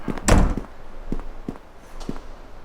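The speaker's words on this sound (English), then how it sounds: "She can hear doors opening everywhere." Doors open and thud around a Neverwinter Nights game scene: one heavy close knock followed by several fainter, evenly spaced thunks and clicks over a low ambient hum.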